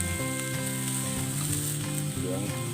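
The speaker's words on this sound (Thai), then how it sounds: "ย่างกุ้งนะครับ" Shrimp sizzle loudly and continuously in a hot pan, a dense frying crackle with a steady hum underneath.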